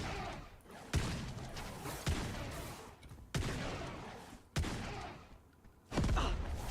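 Grenade blasts in the video game Engines of Fury go off as five sharp, loud bursts about a second apart, each trailing into rumbling combat noise.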